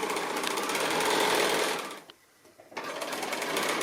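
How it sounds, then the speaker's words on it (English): A sewing machine basting with long stitches around the edge of a fabric pocket book page, running loud and steady, cutting out briefly, then starting up again. "So I'm just doing this basting around the edge."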